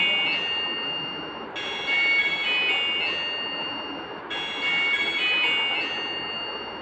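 A DZ09 smart watch sounds its Bluetooth disconnect alert: a bright, high electronic melody, tinny and close, playing twice in a row with a short gap between, over faint background hiss and no talking.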